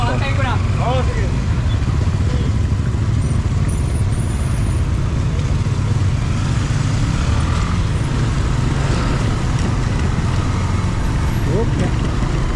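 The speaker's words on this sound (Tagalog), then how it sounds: "Medyo nagka-traffic na rito kasi yung mga sasakyan nagsasabay-sabay na palabas sa lugar na ito." Cars and other vehicles crawl past in heavy road traffic on Manila East Road in Binangonan, a steady broadband engine and tyre rumble running throughout, with talk over the top.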